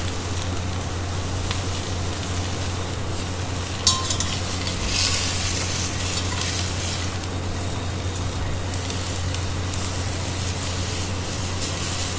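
Pork pot roast searing in a hot pan, a steady broad sizzle and hiss running throughout with a brief clatter near the start, close and even in level, no talking.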